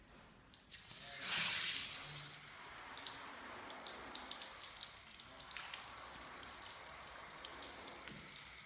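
Water sprays onto a motorcycle's plastic fairing in a detailing workshop test, a loud hissing burst up front, then a steady softer patter and trickle of water running off the panels.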